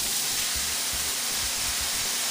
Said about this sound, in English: And then my mirepoix, once again, onion, celery, and carrots are going right inside.